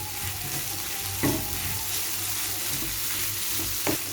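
Spot idli with masala and butter frying in a pan, a steady close sizzle running throughout with two brief louder bursts of stirring or scraping.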